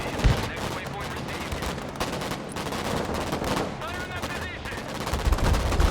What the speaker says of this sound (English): We're suppressing that building with a LAV, or the LAV.